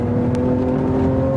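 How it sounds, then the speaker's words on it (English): A 2012 Lamborghini Aventador with a mid-mounted V12 circling a 150-meter skid pad at about 120 km/h, its engine holding a loud, steady, sustained tone for the whole brief moment. "I never thought I'd drive a V12 mid-engine Lamborghini and be able to counter-steer it around a skid pad."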